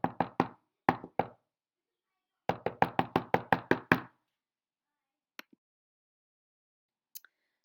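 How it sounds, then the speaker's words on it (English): Knocking on a door in a nativity story, with a first burst of three quick raps, a pause, two more, then a longer run of about eight steady knocks, followed by two faint taps and silence. "But that night there was a knock at the door."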